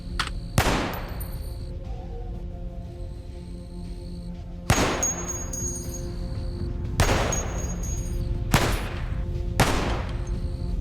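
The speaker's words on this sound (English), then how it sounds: "Okay, firing mode, semi-auto. I'm firing only one bullet." Semi-automatic gunfire in Cataclysm: Dark Days Ahead, four separate sharp single shots spaced a few seconds apart, each with a short decaying tail, over a steady background hum.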